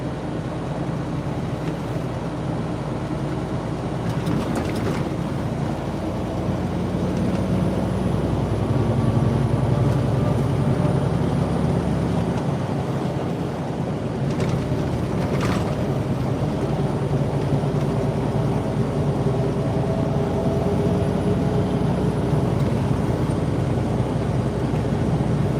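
Steady low engine drone and road rumble inside a truck cab on a non-interstate road, continuous and fairly loud throughout with no talking.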